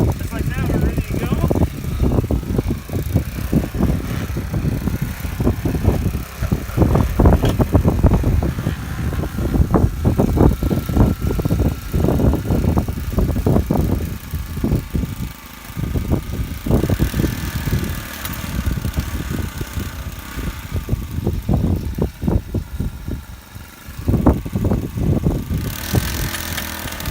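A Titan gas-powered post pounder starts and runs, a close, loud stream of rapid rhythmic pounding beats over the small engine's putter, with brief pauses between bursts.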